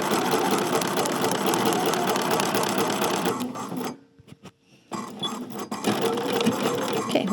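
A sewing machine stitches a garment side seam in a loud, steady whir, pauses briefly for a couple of back stitches with short clicks, then resumes running continuously.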